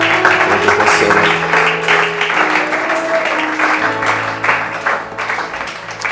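A church congregation applauds loudly and steadily in praise of God, a dense wash of clapping over sustained keyboard tones, with no one talking.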